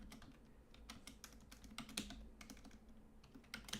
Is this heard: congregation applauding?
no